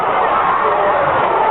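A wrestling arena crowd roars and cheers continuously under a commentator's voice, a broad, steady wall of noise heard through narrowband, broadcast-style sound.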